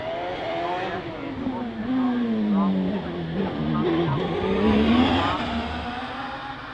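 Hill climb race car at Loton Park launching hard off the start line, engine note rising through gears and sweeping in pitch, loud and close for several seconds with a commentator talking over it.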